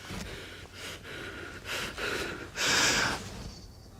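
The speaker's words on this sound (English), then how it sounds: "noticing his breathing" A man breathing heavily, five or six long, harsh breaths one after another, the last the loudest and most hissing, close and with nothing else over them.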